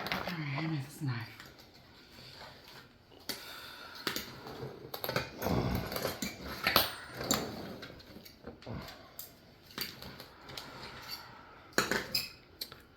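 A knife cuts through protein lasagna and scrapes against the dish while portions are served, with clinks, scrapes and soft thuds coming at irregular moments and people talking at times.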